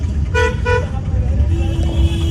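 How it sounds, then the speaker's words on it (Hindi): Heavy street traffic in a busy market, with two short, loud car horn toots near the start and a steady low rumble of engines and crowd noise throughout, plus a fainter sustained tone later. "यहाँ पे ट्रैफिक बहुत ज़्यादा है"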